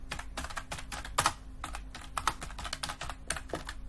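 A Google search typed on a computer keyboard: brisk, irregular key taps in quick bursts, close up, with a low steady hum beneath.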